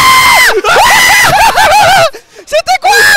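Loud crowd screaming and shouting at a Super Smash Bros. Ultimate tournament, Tech Republic VII, during a Kazuya versus Snake match, many voices at once, briefly dropping off near the end before surging back.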